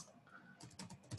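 Quick keystrokes on a computer keyboard, a short run of close, faint clicks that bunch into a brief burst at the end.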